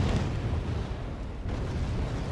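Artillery fire in the video game Wargame Red Dragon, a Berantino gun shot landing on T-70 tanks, heard as a continuous broad, rumbling explosive roar that stays loud and dense throughout.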